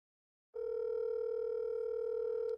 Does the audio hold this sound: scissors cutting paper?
no